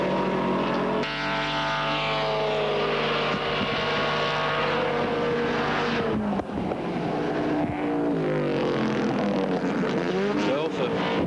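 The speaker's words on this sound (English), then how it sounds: "they have a roaring Ford coming at them from behind" Ford race car at the 1979 Bathurst race, its engine roaring loud and close as it passes, pitch sweeping with gear changes, a commentator talking over it throughout.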